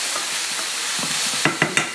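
Chicken sizzles in a pan as it is stirred, a constant frying hiss with soft scraping strokes that end in three sharp clacks of a utensil against the pan.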